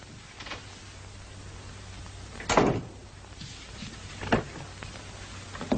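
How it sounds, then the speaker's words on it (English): A door in a 1938 household interior closes with a firm thud, followed by a softer latch knock and a faint click, over a low background hiss. "Hey, the door, close it."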